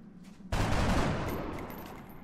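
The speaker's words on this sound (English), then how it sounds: "seeing if the rookies can get the job done by shooting over low cover" Rookie soldiers in the video game XCOM fire over low cover, a sudden loud burst of gunfire that cracks in close and then rolls off into a slowly fading rumble.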